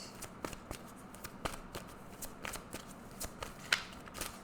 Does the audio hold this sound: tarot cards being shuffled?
yes